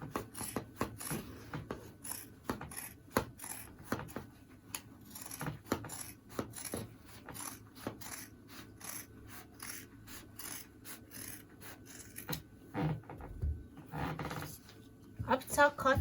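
Fabric is cut with scissors along a marking for a 360 or 720 round flare skirt, giving a steady run of rapid, rhythmic snips close to the listener. The cutting is moderately quiet and continues for most of the passage.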